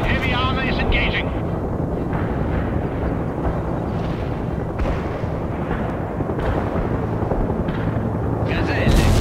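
Continuous rumbling battle din from a World in Conflict tank engagement, with dense booming gunfire and explosions throughout, loud and sustained, a few brief higher bursts near the start and end.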